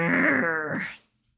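A dying non-human creature in a video game lets out its weak final roar, a short, moaning, groan-like cry that wavers in pitch and then cuts off into silence, heard alone.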